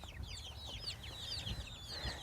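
A brood of chicks keeps up a continuous flurry of thin, high peeps, fairly quiet and close, over low rustling movement.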